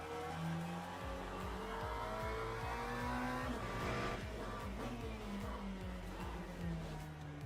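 Race car engine from the video game Le Mans Ultimate, held at a steady high rev with gear changes and tire squeal, running continuously and loud throughout with no talk.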